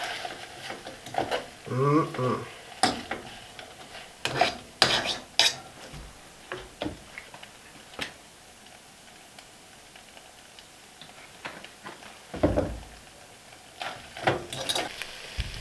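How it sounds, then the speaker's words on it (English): Mac and cheese warming in a pot is stirred with a metal utensil, giving scattered close clinks and scrapes against the pan in irregular bursts, with quiet gaps between and no talk. "Warm up some mac and cheese."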